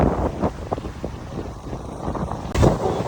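Wind by a lake on Ometepe island buffets the microphone in loud, rough gusts, a steady low rumble with sharper bursts and one strong blast near the end.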